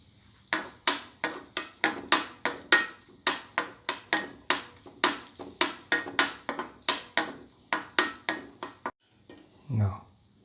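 Cashews are stirred as they brown in a pan, giving a long run of sharp, bright utensil clacks against the pan. The clacks come in a quick, fairly steady rhythm and are close and loud, followed by a brief low rumble at the end.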